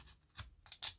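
Scissors cutting paper while making a junk journal: a few quick, faint snips close by, with short gaps between them.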